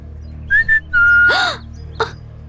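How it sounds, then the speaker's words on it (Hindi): A man whistles flirtatiously at a girl: several short rising and falling whistled notes, one long sliding whistle, then a brief final chirp, close and clear over a low background hum. "लड़के लड़कियों को पटाने के लिए सीटी बजाते हैं, उसी तरह मैंने तुम्हारे लिए बजाई"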